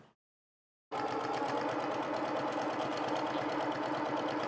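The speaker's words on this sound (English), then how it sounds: "I'm just going to sew down the folded side" Sewing machine stitching down the folded side of an apron strap, starting abruptly after a brief silence and then running in a fast, steady mechanical whir with rapid needle chatter, close and even, with no talking.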